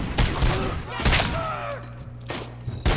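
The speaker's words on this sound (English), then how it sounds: "Who's shooting me?" Gunfire rattles through a firefight in Robocop Rogue City, several sharp loud bursts and thuds spread across a few seconds, with a voice talking between the shots.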